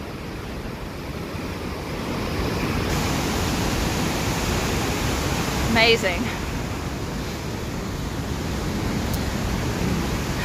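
Continuous roaring rush of river rapids at Huka Falls near Taupo, a dense close-up wall of churning water with wind buffeting the microphone and a brief spoken exclamation midway.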